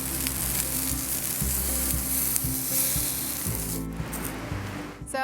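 Broccoli fries in a pan in a van kitchen, a loud continuous hiss and crackle close up with a low rhythmic hum underneath, briefly dipping near the end before resuming.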